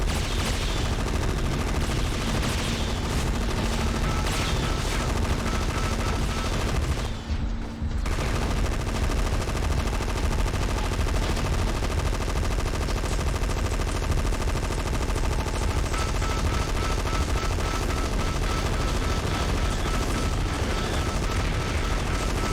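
Dense, continuous machine-gun fire and explosions as a convoy comes under attack in the video game Gun Metal, loud and relentless with only a brief drop in the barrage.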